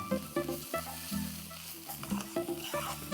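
Whole cinnamon, cloves, cardamom and garam masala frying in a pan for chicken curry, with a steady sizzle under repeated stirring scrapes and low clunks in an uneven rhythm, close and fairly quiet.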